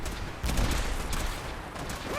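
Gunfire in the video game Fallout 4, rapid overlapping shots in a dense battle, with a louder burst of fire that keeps rattling on steadily.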